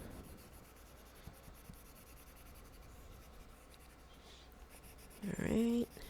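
Pencil marks are rubbed out on a game score sheet during a solo board game playthrough: close, scratchy back-and-forth strokes, then a brief voice near the end.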